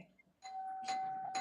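A doorbell rings indoors: a faint first tone, then a sustained electronic chime followed by a second ding-dong, fairly quiet and heard alone.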